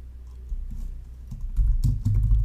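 Keys clack on a computer keyboard as a search is typed, a quick irregular run of close, crisp taps growing denser toward the end, with no speech.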